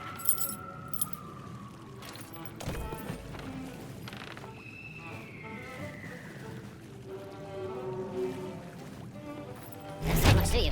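Keys jangle from a dog's mouth in the Sea of Thieves video game, a soft metallic rattling over busy game music and ambience, ending with a louder burst of jingling near the end.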